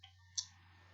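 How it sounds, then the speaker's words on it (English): A single sharp computer mouse click, close and crisp, over a low steady hum while selecting a country in a Google Ads campaign setup. "I'm just going to click on United Kingdom"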